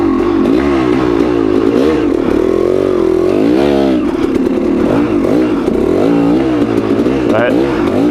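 Motorcycle engine revving and bogging at low speed on a slow, technical trail, the pitch rising and falling repeatedly, loud and close throughout with a voice talking over it.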